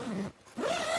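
YKK waterproof zip on a ONETIGRIS Hillridge 2P tent being pulled open in two quick zipping strokes separated by a short pause, close and crisp.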